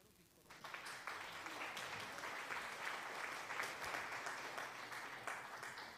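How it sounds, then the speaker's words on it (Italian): Crowd applause breaking out at a live gaming event, a dense steady wash of clapping that swells after a quiet start and holds loud and even to the end. "le facciamo un bel applauso."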